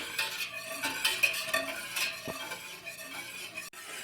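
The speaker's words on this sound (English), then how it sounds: "I am just going to stir this" Milk heating for homemade cheddar cheese is stirred in a pot, giving repeated close scraping and swishing strokes with light metallic clinks, and a sharp knock near the end.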